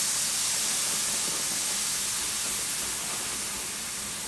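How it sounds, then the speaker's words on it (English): Cooking wine with lemon hits a hot pot and gives off a loud, steady hiss and sizzle of steam that barely fades over four seconds, close and without talk. "And just deglaze the pot."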